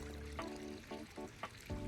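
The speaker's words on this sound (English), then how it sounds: "turn on the bathtub" Water from a bathtub in the video game Date Everything runs in a few short splashing, trickling bursts, with gurgling tones between them and no talk over it.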